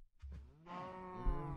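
A Minecraft cow gives a single drawn-out moo, close and clear, preceded by a couple of soft short sounds.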